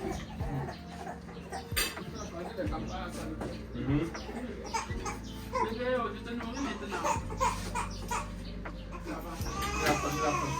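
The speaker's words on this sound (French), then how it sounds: "Oh, le poulet." A chicken clucks in short repeated bursts in a countryside setting, mixed under ongoing conversation and laughter from several people nearby.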